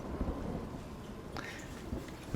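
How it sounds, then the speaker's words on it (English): Thunder from a lightning strike in the video game For Honor rumbles low and fairly soft under a rain-like wash, with a brighter crack about midway through. "Very cinematic, though, with the lightning strike and all that."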